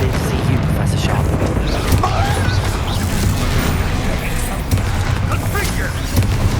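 Spell explosions in Hogwarts Legacy gameplay: dense, overlapping booms, crashes and impacts in a continuous combat din, with a voice casting spells over the noise.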